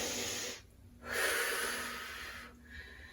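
Two forceful, breathy exhales during a total-body workout, a rowing-style pull-back exercise, each a sharp rushing blast of air separated by a short pause, close and fairly loud over faint background hum.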